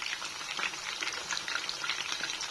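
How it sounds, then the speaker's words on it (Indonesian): Half-cooked frozen chicken pieces fry steadily in hot oil, a dense, even crackling sizzle that continues throughout at moderate volume with no talking. "Aku goreng setengah matang ya"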